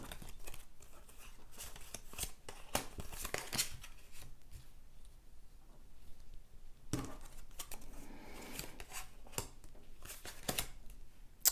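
Oracle cards drawn from a deck and flipped over one after another, giving soft papery snaps and slides in scattered bursts at close range, with no voice heard.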